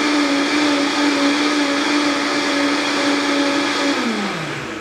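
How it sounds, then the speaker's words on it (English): A countertop blender roars loudly and steadily, whipping a key lime smoothie with leafy greens, a dense constant whine that drops in pitch near the end as the motor winds down. "I'm going to blend this first real quick to get the greens blended up real good."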